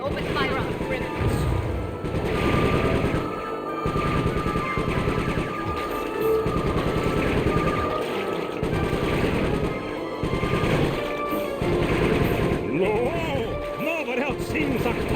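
Sustained rapid gunfire from a pursuing aircraft in Sly 3, with dense rattling bursts over a droning engine, while game voices talk throughout.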